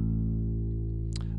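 A bass guitar plays an A note, one steady, sustained tone that rings evenly and fairly quietly, with a faint string or fret noise near the end.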